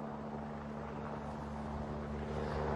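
Rotor and engine drone of a helicopter over a flooded river in the Aude, steady and moderately distant, forming a continuous low hum that fills the whole stretch without voices.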